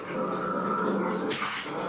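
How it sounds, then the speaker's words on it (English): Dogs playing together, giving a steady, close, rough growl that rumbles on without a break for a couple of seconds. "The dogs are playing."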